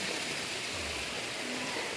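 A river in a backyard gives off a steady, close, broadband rush of flowing water with no breaks, sounding like a continuous stream or small falls.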